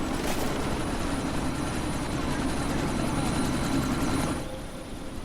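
A helicopter in the video game Deus Ex Mankind Divided roars loud and close with a dense steady rotor and engine wash that holds, then eases off slightly near the end.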